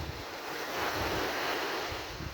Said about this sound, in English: So we're back now on a Wicklow beach